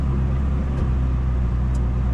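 A Koenigsegg Jesko hypercar running on UK pump petrol, its engine a steady loud drone with dense low rumble held throughout, close and unbroken.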